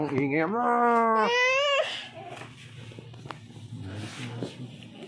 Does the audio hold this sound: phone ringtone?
no